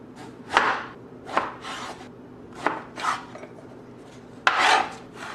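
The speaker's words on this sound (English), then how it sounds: "Now, chop ourselves up a pear." A knife chops a pear on a cutting board. Five separate crisp strokes land about a second apart, close and fairly quiet, with no one talking.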